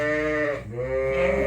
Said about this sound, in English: So in a big bunch of lambs, she's got 2 to look after.